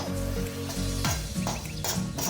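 Ghee-coated rice for payesh is lightly fried in a pan, making a continuous close sizzle broken by scraping stirs.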